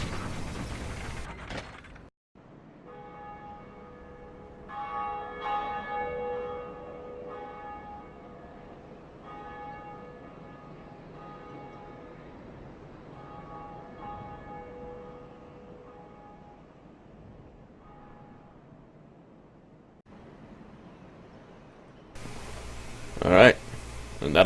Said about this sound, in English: the first Bell of Awakening has been run